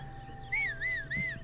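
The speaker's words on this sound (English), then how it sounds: "If I whistle for this horse" Link in Breath of the Wild whistles to call his horse: three short warbling whistle notes rising and dipping in quick succession, clear over a faint steady hum.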